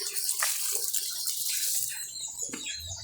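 Water splashes and pours steadily while plants are watered outdoors on a morning in Sulawesi, a close, hissing flow that shifts in intensity with a few heavier splashes.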